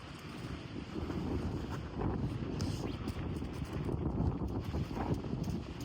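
Wind gusting across a golf course, rumbling and buffeting against the microphone as a steady low roar that persists throughout.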